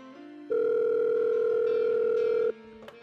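A telephone line connects during a call to the Sex Sense Healthline: a steady loud tone holds for about two seconds and then cuts off, with faint background sounds before and after.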